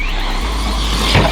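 An Arrma or Traxxas RC truck launches off a ramp, its electric motor whining steadily before a brief thump near the end as it lands, heard alone with no talk.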